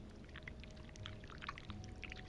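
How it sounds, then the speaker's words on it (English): Wax poured from a pot in a video game, a faint, soft trickling pour with light bubbly gurgles under a low background hum. "to start, we need to pour the wax from the pot"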